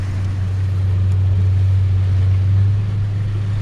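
A shanty boat's engine holds a steady high drone at about 4,000 RPM, loud and constant throughout, with no voices.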